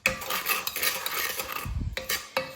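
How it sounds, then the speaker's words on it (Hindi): Sugar tipped into a cooking pan, with close metallic scraping and clinking of a spoon against the pan in quick bursts and a brief pause before more stirring. "चीनी डाल ली।"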